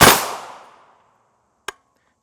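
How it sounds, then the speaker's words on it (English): A gunshot fired at an alumina armor plate: one sharp, loud blast with a decaying ring, then a short metallic impact click a moment later, with no talking. "We're going to take 2 more shots at this plate to see if it will stop it."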